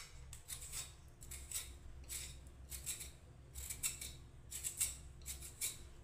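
Carrots being peeled by hand for a breakfast semolina upma, a run of short scraping strokes in an uneven rhythm over a low steady background hum, close and fairly quiet.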